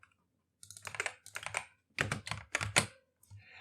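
Fingers type a comment on a computer keyboard in a Unity game-development session, with bursts of rapid, close key clicks in three or four quick flurries separated by brief pauses, with no talk.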